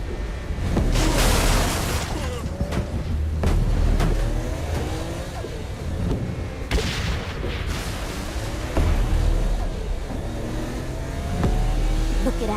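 A car driven through the Saints Row: Gat Out of Hell game world, engine revving and surging loudly with sharp bangs and gunfire-like cracks mixed in, continuous throughout and close up.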